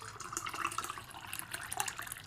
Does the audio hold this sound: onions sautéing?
no